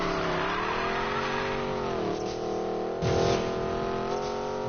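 A racing video game car engine revves steadily and loudly for several seconds, its pitch rising and falling as it holds high revs, with a brief surge and possible tire scrub midway; no talking.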